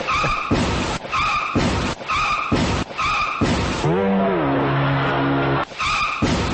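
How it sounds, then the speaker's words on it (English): A loud car crash sound effect: repeated harsh bursts of noise, then a long tire skid squeal with a falling pitch, followed by another burst of impact noise. "can I just get a car crash and we can end this?"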